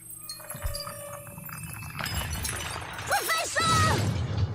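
Glass shattering in the video game Professor Layton vs. Phoenix Wright, a loud crash and tinkling of breaking shards over game music and effects, with voices chattering throughout.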